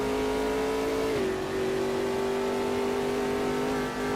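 Ginetta G58 prototype race car engine in Automobilista 2 at Brasilia holds a loud, steady high drone, its pitch dipping once mid-way as it lifts through a corner, then settling into a sustained whine with no talk.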